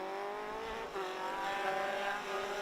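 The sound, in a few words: number 64 race car passing by at Thruxton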